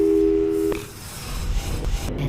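In Portal 2, a telephone call tone plays as a steady electronic beep for under a second, then cuts off into low hiss and faint rustling clicks.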